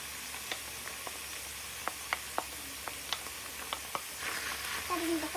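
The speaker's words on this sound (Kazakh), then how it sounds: "Сәбізімізді қосып араластырып шығамыз." Carrots tossed onto meat in a hot pan for a funchoza salad sizzle steadily, with sharp clicks of a utensil stirring at irregular intervals and a voice coming in near the end.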